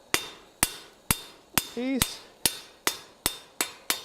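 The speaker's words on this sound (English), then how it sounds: "All I'm doing at this heat is planishing out hammer blows for my next operation" A hammer planishes hot steel on an anvil during winter forging. About ten sharp metallic blows ring out at an even, steady pace, and a voice briefly speaks between them.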